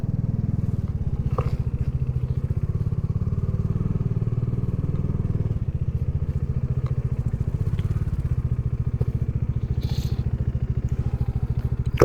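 A motorcycle on the first day of a 4000-plus kilometre road ride; its engine drones loud and close with a steady pulsing throb for the whole stretch, with occasional rattles and thumps from the road.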